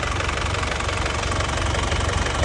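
A 2006 New Touring car's turbo diesel engine, dry with the turbo still factory-sealed and running without smoke or blow-by, idles in a loud, close, even knocking clatter with no talk over it.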